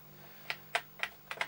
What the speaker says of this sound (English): let's see if this keyboard's going to work